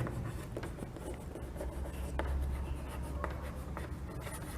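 Chalk or marker writing on a classroom board during a Hindi-medium Class 11 maths lesson on sets, a continuous scratchy scribbling with short taps and strokes, fairly close and with no talk over it.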